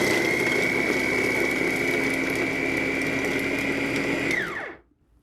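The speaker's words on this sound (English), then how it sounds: "Now we're going to put the lid on and chop this as well." An electric food chopper with multiple steel blades whirs loudly as it chops cabbage under its lid, a steady high motor whine that holds evenly, then spins down and stops abruptly near the end.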